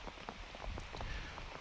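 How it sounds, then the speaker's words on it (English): Steady rain falling at a cricket ground in Zagreb, Croatia, a dense, even patter of drops on surfaces with no voices over it. "it says the rain is stopping in about an hour and a half"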